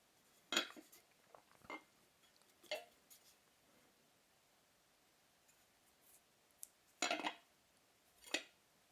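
A solid, chunky Le Creuset stoneware butter dish being handled, giving a few sharp ceramic clicks and knocks spaced irregularly over a quiet background, close and moderately loud.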